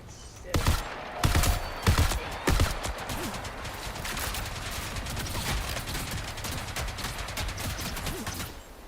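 Video game gunfire from the shooter Marathon: several loud bursts of shots in the first few seconds, then steadier rattling fire and game effects continuing throughout.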